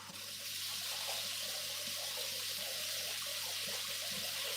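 Something washed under a running kitchen tap, a steady full rush of water splashing into a sink with faint clattering underneath, close and continuous throughout.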